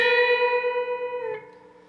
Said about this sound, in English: bend up the 14th fret of the G and play a vibrato at the top of the bend